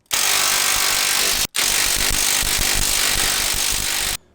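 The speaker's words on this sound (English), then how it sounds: "we're gonna hit it with the impact, tighten her down" An impact wrench hammers steering gearbox bolts tight on a Duramax truck, two loud, close rattling bursts split by a brief gap, the second burst running longer before it cuts off.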